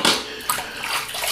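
A shaving brush with mixed badger and boar bristles is rinsed under running water, a brief close rush of splashing and sloshing with no speech.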